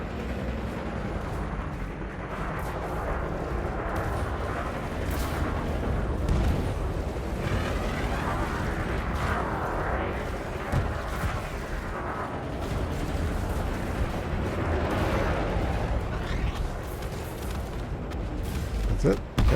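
Ship weapons in Elite Dangerous fire at a target in repeated heavy booming bursts, a continuous rumbling barrage with talk over it.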